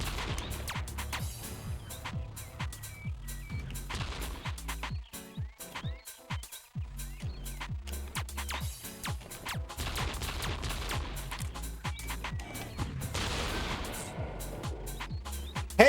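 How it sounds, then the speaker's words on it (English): Turret weevil enemies firing in the Buck Bumble video game, rapid bursts of gunfire crackling steadily over busy game music and effects throughout, with a brief lull midway. "I hear one of those turret weevils"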